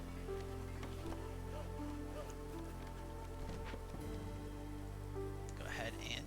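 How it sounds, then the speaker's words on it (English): Drizzling rain in a video game, a steady patter of light drops on surfaces with a few scattered brighter ticks, continuous throughout under faint ambient game tones. "And it is drizzle."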